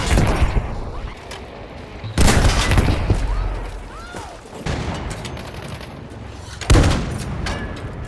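Boys AT rifle fire in the video game Battlefield 5, a recon-class primary anti-tank rifle: two heavy, booming shots several seconds apart, each followed by a ringing tail, over a steady background of battlefield noise.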